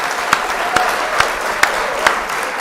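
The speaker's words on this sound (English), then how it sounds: "give a hand clap to all of you guys" Steady hand clapping and applause fill the clip, with a few sharper claps standing out at a regular beat over the continuous wash of clapping.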